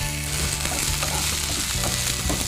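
Chopped banana flower fries in hot oil for a rice dish, giving a loud, steady sizzle with stirring and scraping throughout, close up and without voices.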